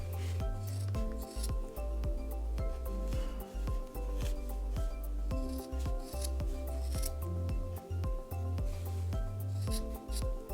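Scissors snip rapidly and repeatedly through the yarn loops of a knitted pom-pom, a close, crisp run of rhythmic cuts with light rubbing of yarn between strokes.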